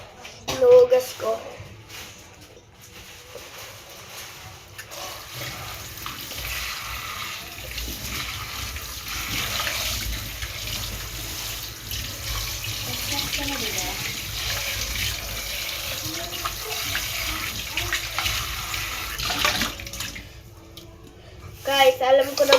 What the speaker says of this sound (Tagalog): alam ko na maghugas